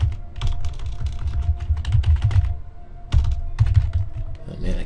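Fast, uneven clatter of typing on an Eclipse multimedia computer keyboard, with rapid clusters of key clicks broken by a short pause near the middle. The keys sound close and fairly loud, with a low thumping underneath.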